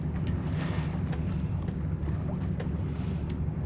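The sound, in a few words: wind while sailing a sailboat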